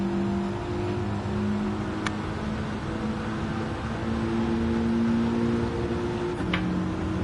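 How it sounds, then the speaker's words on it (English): A GR4-class race car in Gran Turismo 7 on Dragon Trail holds a long steady engine drone while revving in fourth gear, loud and continuous with a couple of faint clicks, no voices. "See how long we can drag this fourth gear out."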